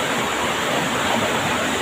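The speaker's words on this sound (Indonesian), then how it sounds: "sambil mendengar arus arus sungai ini. Ini bendungan terasa dari sungai" River current rushing over a dam, a loud, steady broadband roar of falling and flowing water with no breaks, heard up close and without voices.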